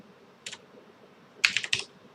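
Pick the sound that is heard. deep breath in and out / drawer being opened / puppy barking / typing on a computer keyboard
typing on a computer keyboard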